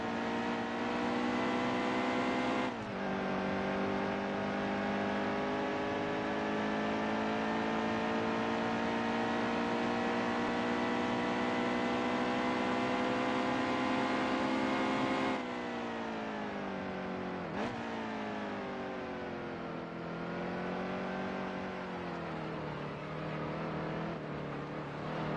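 Race cars at the I Love NY 355 at Watkins Glen, a sustained loud engine roar with harmonic whine that shifts pitch as cars accelerate and pass, continuous throughout with brief drops in tone near the middle.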